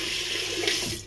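Tap water runs into a sink for rinsing, a steady close hiss and splash that holds evenly before tapering off at the end.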